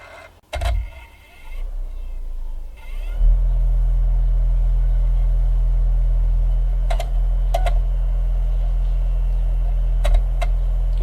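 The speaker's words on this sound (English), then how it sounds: "You can see the laser head moving in and out trying to read the disc, and the disc is spinning up okay" In an LG RC689D DVD/VCR combo with a fault, a disc starts up with a thump and then spins with a steady, loud motor hum. Brief clicks of the laser head seeking break in every few seconds.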